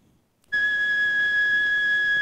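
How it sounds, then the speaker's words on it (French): A single sustained flute note A, pure and steady, begins after a brief moment of quiet and holds evenly to the end. "Le premier son que vous entendez est la note là, jouée par une flûte."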